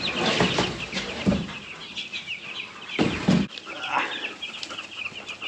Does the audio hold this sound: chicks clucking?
yes